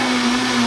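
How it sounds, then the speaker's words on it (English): Blender whirring steadily as it purées tomato soup, a close, loud continuous motor drone with a steady pitch and no talking. "I'm going to blend it a little more."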